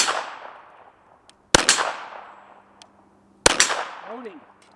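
Two sharp gunshots fired at 35 yards from a barricade, about two seconds apart, each loud and close with a clanging ring and a long decaying echo; a faint metallic ping follows the second shot.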